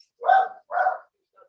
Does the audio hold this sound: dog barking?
yes